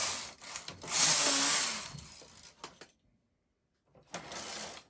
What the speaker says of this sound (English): I knit 2 rows with the main carriage.